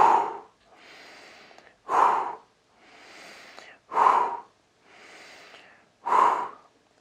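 Deep, energetic breaths during a relaxation exercise: four forceful inhales alternating with longer, softer exhales in a slow, even rhythm, close and clear with no talking.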